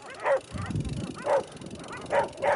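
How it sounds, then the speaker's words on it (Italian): Dogs barking at close range on the Jordan Trail, four sharp barks spaced about a second apart with softer rustling noise between them. "Com'è Franci questo incontro ravvicinato di cani?"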